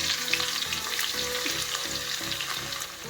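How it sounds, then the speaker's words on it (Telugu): Mustard seeds crackle and fry in hot oil for a lime pickle, a steady dense sizzle with quick popping bursts, close and alone with no voices. "ఇప్పుడు ఈ ఆవాలు వేగిపోతున్నాయి కదా"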